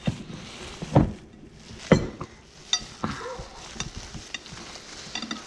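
Ground meat being mixed by hand with rice, black pepper and cumin for Mexican meatballs: soft wet squishing and a few sharp clicks and taps against a bowl, irregular and close, with no talk.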